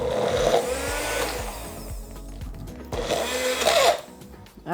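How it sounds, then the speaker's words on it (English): Blender whirring through avocado pesto with olive oil, close and loud, the motor pitch rising and falling as it surges and eases, with a brief pause mid-run before revving again. "Let's blend it up."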